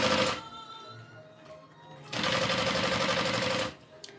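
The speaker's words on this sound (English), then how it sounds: "And I'm using a 5-stitch length to sew this up." Sewing machine stitching vinyl for a bag at a 5-stitch length, a fast steady mechanical whirr in two bursts, the second longer and louder, with a quiet pause between.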